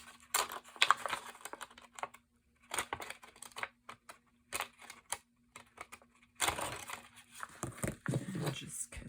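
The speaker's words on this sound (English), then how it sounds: "And then I'll cut the other side off." Scissors snipping paper to trim a skinny junk journal page, with irregular short cuts and rustles separated by pauses, close and fairly quiet under a faint steady hum.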